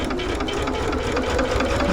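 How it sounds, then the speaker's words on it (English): A sewing machine stitches rag quilt blocks in a continuous close whirring run with rapid regular needle rhythm and no pauses, heard without talk. "I'm going to put it right under the foot, and I'm just going to continue to sew"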